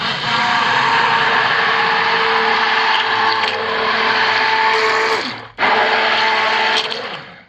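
A stick blender whirs loudly and steadily while mixing hot process soap batter with mica, with a short cutoff before the motor starts again.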